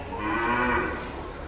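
A female cow on a cattle farm gives a single loud, drawn-out moo up close, swelling and fading over about a second with no talking.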